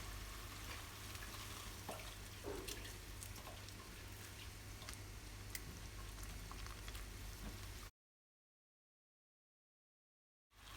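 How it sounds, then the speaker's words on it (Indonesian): Balado chili sambal simmering in a pan with a little added water, a steady bubbling and light sizzle with scattered pops that runs evenly for several seconds before a silent gap, then resumes briefly. "Tambahkan air sedikit aja biar sambalnya matang dengan sempurna."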